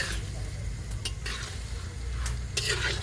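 Chicken sautés in soybean oil at an outdoor picnic, with a continuous frying sizzle and a few brief stirring scrapes, close and steady.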